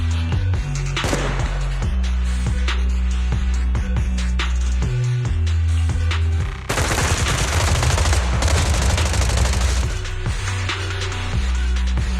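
Dense bursts of rapid gunfire crackle over a heavy low rumble, with layered shots from several directions in a loud game soundtrack.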